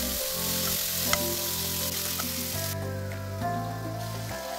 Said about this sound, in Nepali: यसलाई चाहिँ बिस्तारै बिस्तारै मजाले भुट्यो